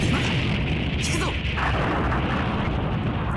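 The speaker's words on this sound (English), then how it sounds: "The dust from the explosion hides our retreat." An explosion in the video game Seinarukana rolls out as a dense, continuous roar of rumbling debris and hiss, steady and loud throughout with a faint voice buried underneath.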